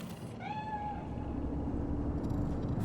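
A cat in Cyberpunk 2077 gives a single clear meow, rising then falling, heard close over a low, steady ambient rumble of the game world.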